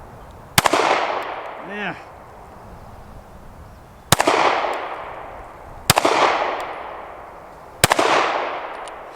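Four sharp, loud Taurus G3c pistol shots ring out outdoors at a target, each a hard crack followed by a long decaying echo, spaced a couple of seconds apart, with a brief spoken word between them.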